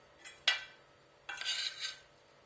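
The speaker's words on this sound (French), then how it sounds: "Alors maintenant, je rajoute les châtaignes." Cooked chestnuts tipped into a pan of sliced mushrooms, giving a sharp clatter of utensil on pan followed by a second, longer scraping rattle; close, fairly quiet, with no talk.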